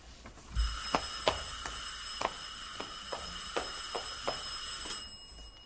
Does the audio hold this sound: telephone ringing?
yes